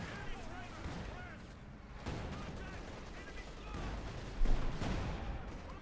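A Katyusha rocket barrage in the strategy game Company of Heroes 2 sounds as a string of muffled booms and crackling blasts over continuous battlefield noise, with a commentator talking throughout.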